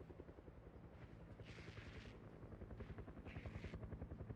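Helicopter in the zombie survival game Project Zomboid, heard in the distance as a steady, rapid rotor chop with faint swells, on its own with no talking.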